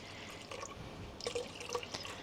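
Slightly warmed water trickling and dripping from a kettle into a bowl for bread dough, a quiet uneven splashing with a few brighter drips, close and faint, with no voices.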